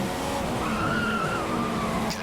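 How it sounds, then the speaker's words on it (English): Continuous tyre squeal from an F1 2015 race car in the video game at the Brazilian Grand Prix, a sustained whine over the steady engine drone, close and unbroken for about two seconds. "Get a lot of tyre squeal now."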